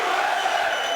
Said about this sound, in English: the crowd here in Mississippi chanting USA